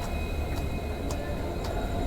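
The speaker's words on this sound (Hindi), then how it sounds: "फ़िलहाल हमारी ट्रेन पहुंच रही है" A train pulls into Ludhiana railway station around midnight, a steady low rumble of the general-class carriage with faint rhythmic clanks and no talk over it.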